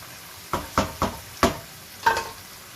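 A spoon knocks and scrapes through chana beef pulao in a cooking pot, five separate stirring strokes with short pauses between them over a quiet kitchen background.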